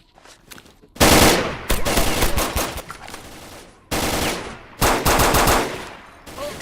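Pistol gunfire in the video game S.T.A.L.K.E.R. Lost Alpha, two loud bursts of rapid shots close together, the second run arriving after a short gap and followed by a fainter trailing shot.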